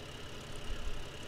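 A tractor engine idles in Farming Simulator 15 with a steady low drone and faint rhythmic chugging, heard alone at a quiet level.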